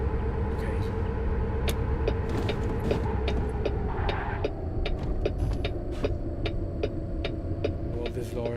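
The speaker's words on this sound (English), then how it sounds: "This lorry doesn't really like to drive." Simulated lorry driving on Louisiana roads in American Truck Simulator, a steady low engine drone and road rumble running throughout, with faint clicks and mechanical ticks over the top and no talk.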